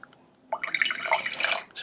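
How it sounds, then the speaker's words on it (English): Water poured into a thick mixture during a DIY guitar kit build, a bright trickling, splashing stream that starts after a short quiet moment and runs close and steady for over a second. "so pop a bit of water in there."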